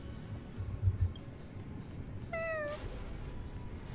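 A small cat in Honkai: Star Rail gives one short meow midway through, a clear rising-and-falling call set over a steady low ambient hum.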